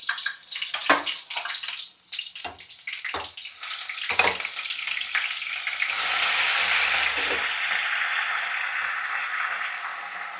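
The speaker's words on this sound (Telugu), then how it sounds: "ఇంకా పనసకాయ ముక్కలు ఉడికినాయి కదా, కొంచెం డీప్ ఫ్రై చేయాలన్నమాట. ఆయిల్లో వేసి వేసుకోవాలి." Boiled jackfruit pieces drop into hot oil for deep frying, first a series of sharp sizzling bursts as pieces go in, then a steady, loud, hissing fry that carries on alone.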